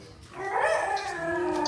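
A person howls in imitation of a dog, a sustained rising then wavering wail lasting under two seconds, fairly loud and close, with no other talk.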